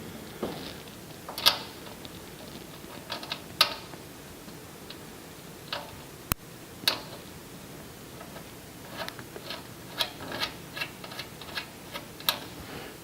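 Screws being turned in by finger on a custom cart: soft, sparse clicks and small ticks scattered irregularly over a quiet background, with one sharp snap near the middle.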